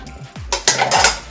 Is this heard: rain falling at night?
no